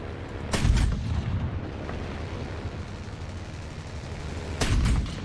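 A 150 mm tank cannon in the video game War Thunder fires twice, each a heavy booming blast several seconds apart, with a low rumble between the shots and no talking.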